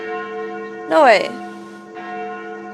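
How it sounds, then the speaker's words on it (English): Church bells ring at noon in the video game Sucker for Love, a steady sustained chime. A voice briefly speaks over it partway through. "That sounds like the church noontime bells."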